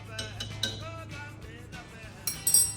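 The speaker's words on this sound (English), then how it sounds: "Just gonna stir in there" A metal spoon stirs and clinks against a pot of garlic dill pickling brine, light scraping and a few sharp taps near the end, close and fairly quiet with no speech.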